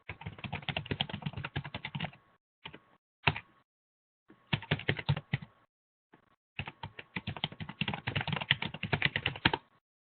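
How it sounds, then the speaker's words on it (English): Rapid clicking of fingers typing on a computer keyboard, coming in several close, fast bursts separated by short pauses, fairly quiet and with no talk. "let me just type mine in."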